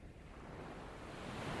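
Calm ocean waves make a soft, continuous surf wash that swells slightly toward the end, distant and steady, with no voices.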